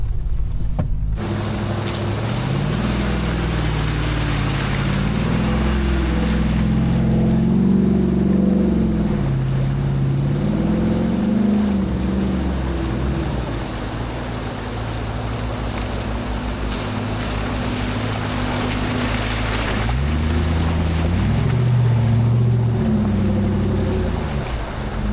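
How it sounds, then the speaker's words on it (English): An off-road vehicle fords a small mountain river, its steady engine drone shifting in pitch beneath a continuous rush of splashing water, close and loud throughout. "I'm going to get a shot of us driving through this little river here in a second"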